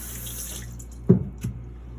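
Tap water running into a sink to rinse a straight razor after honing on Japanese natural stones, a steady close trickle with a couple of louder splashes as the blade passes under the stream.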